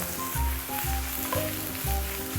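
Zucchini sizzles steadily in a hot frying pan in a home kitchen, with a constant crackle and a few soft bumps and scrapes as the slices are flipped.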